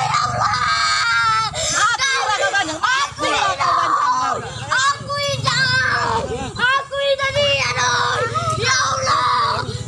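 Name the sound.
child screaming and crying for mercy while being beaten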